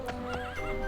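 Jeffrey, a horse in the video game Daggerfall Unity, whinnies with a rising, wavering neigh over a few close hoof clops, all within about a second.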